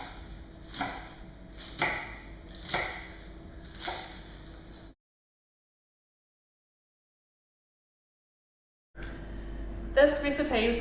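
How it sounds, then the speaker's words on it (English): Vegetables chopped with a kitchen knife on a board, about four evenly spaced thuds, then a silent gap, followed by more clattering kitchen noise. "You just chop them up like that."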